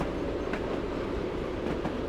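A Class 111 train in Train Simulator rolls across a bridge, a steady rumble with faint rhythmic wheel clicks, no talk.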